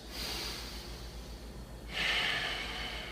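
Deep yoga breaths during a lower-body workout, with a forceful nasal exhale followed by a sharper, louder breath, close and alone with no talking.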